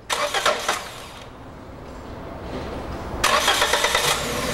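A car engine with a possible ignition fault cranks on the starter in two bursts, rapid rhythmic chugging, separated by a pause of steady low hum, close and loud with no voices.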